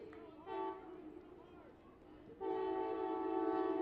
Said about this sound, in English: As the 12:30 Amtrak train moves through campus.